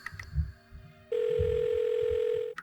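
A phone rings unanswered in the adventure game The Blackwell Deception, with short electronic tones first and then a long, steady, sustained ringing tone over a soft, low, pulsing music bed.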